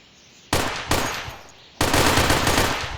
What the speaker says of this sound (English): That's the machine gun.